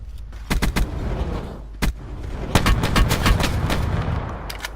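Rapid shotgun blasts in Call of Duty Black Ops zombies mode, a long-barrel shotgun firing in quick bursts of sharp, loud reports, several grouped close together, with no talk over them.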